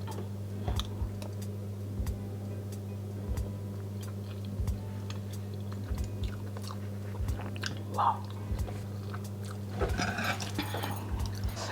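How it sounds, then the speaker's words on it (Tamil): Someone bites and chews a mouthful of hot palak paneer in soft, repeated clicks over a steady low hum. The chewing is faint and close, with no talking. "இந்த பாலக் பன்னீரை வந்து எப்படி இருக்குதுன்னு டேஸ்ட் பண்ணி பார்க்க போகிறேன்"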